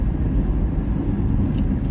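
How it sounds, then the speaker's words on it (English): Semi-trucks roll past outside as a steady, loud low rumble that fills the whole stretch without letup, with a brief faint higher hiss near the end. "these semi-trucks are mad irritating"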